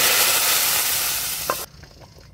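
Fried red onion tempering in soybean oil poured into khesari lentil dal with bottle gourd greens, a loud, close sizzle that cuts off abruptly, followed by faint stirring.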